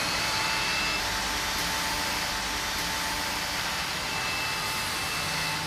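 A cordless vacuum cleaner runs steadily on a hard floor, sucking up fine dust with a loud, even, broadband whoosh and a faint high whine held throughout, with no voices.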